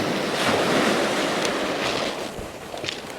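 Sea waves break and wash up the shore on the beach at Eastbourne, a loud continuous rushing surf with wind buffeting the microphone, one surge swelling then easing off.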